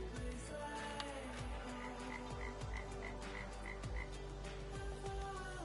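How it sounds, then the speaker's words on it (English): A frog in the video game Lost Records: Bloom and Rage gives a run of short, evenly spaced croaks over an ambient nature bed with faint outdoor sounds, and no one speaks. "Are you a frog?"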